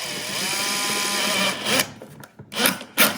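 An electric screwdriver undoes a screw during a DIY cottage bathroom renovation, a steady whirring grind that then breaks into short uneven bursts with brief pauses, close and loud.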